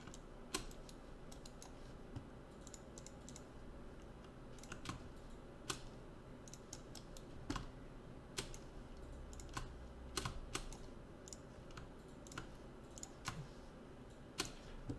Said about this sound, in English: All that clicking I had to do